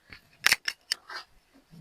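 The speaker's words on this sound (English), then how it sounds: "So the next thing now is to cut the top" Scissors snip through fabric while a stylish bubu top is being cut, a few close, sharp crunching cuts in quick succession, then quieter rustling of the cloth.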